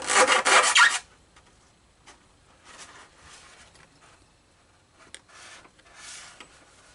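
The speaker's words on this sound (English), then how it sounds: "You take a jeweler's file." A jeweler's file works a metal part from a Deans Marine SS Mellenie model ship kit: one loud, close burst of rapid rasping strokes, then quieter, scattered scrapes spaced apart.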